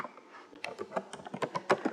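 Typing on a computer keyboard while entering a name into a web dashboard form, a quick irregular patter of close, crisp key clicks that grows denser toward the end.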